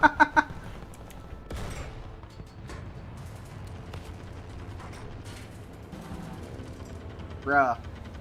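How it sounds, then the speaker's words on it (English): Machine-gun fire crackles in a sustained, dense rattle of rapid shots throughout a War Thunder naval battle, with sharp bursts at the start and a loud whining mechanical sweep near the end. "There's so many machine guns firing at me."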